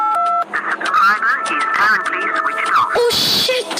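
A phone call is dialled, with short electronic dialing tones at the start and again near the end, while a woman's speech and background music fill the middle.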